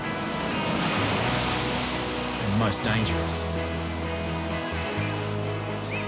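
Ocean surf breaking at Bondi Beach under clear skies with a solid swell, a constant rushing wash of waves with someone narrating over it.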